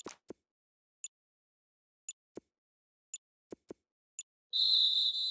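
A referee's whistle in a PS4 American football video game gives several short, sharp chirps spaced about a second apart over soft thuds. It ends in one loud, sustained shrill blast.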